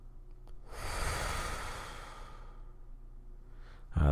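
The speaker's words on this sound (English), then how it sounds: "Take deep breaths. Here, let's do one together." A single deep breath, drawn in slowly and then let out in a long, audible exhale, close to the microphone with no talking.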